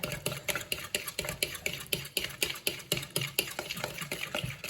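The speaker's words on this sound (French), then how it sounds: "Je vais remuer les épinards" Spinach being stirred in a pan for a salmon and spinach tart, a quick steady run of scraping, clattering strokes up close, repeating several times a second with a faint sizzle underneath.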